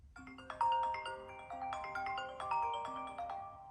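Ringtone on an iPhone X running iOS 11, a bright chiming melody of plucked, bell-like notes rising and repeating in a lilting pattern, clear and alone.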